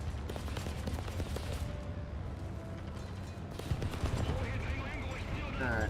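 Machine guns hammer away at a boat during a naval battle in War Thunder, a dense, continuous clatter of rapid fire layered with engine rumble and scattered impacts, loud and unbroken throughout, with a voice talking over it.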